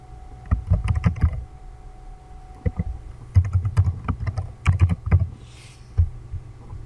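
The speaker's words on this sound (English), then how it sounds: "let me enter the password again" A password being typed on a computer keyboard, with clusters of close, crisp key clicks broken by short pauses, and no voices.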